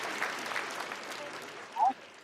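Brief, soft applause from a small group clapping for a newlywed couple, with a faint voice mixed in and a short louder sound near the end.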